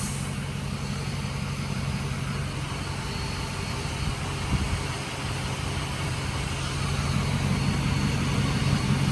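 A 2024 Ford F350 high-output diesel pickup with its emissions equipment deleted idles nearby, giving a steady, dense low rumble and broad hiss that hold an even level throughout, with no voices.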